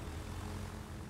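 Propeller aircraft engines drone in a naval battle video game, a steady low buzzing hum held evenly and faint throughout.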